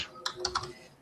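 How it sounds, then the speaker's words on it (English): A computer keyboard being typed on for a comment, a quick run of a few soft clicks, faint and close, ending with a sharp louder knock. "wasn't even done typing my thing in the comments"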